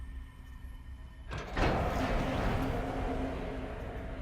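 A door in the video game Horizon Zero Dawn slides open with a sharp mechanical onset, then a sustained whooshing, rumbling hiss that holds steady above a quiet ambient hum, with no talking.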